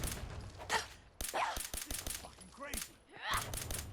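Rapid pistol gunfire in the video game Fallout 4, a burst of sharp, fairly faint shots in quick irregular succession with brief gaps, with scattered impacts between them.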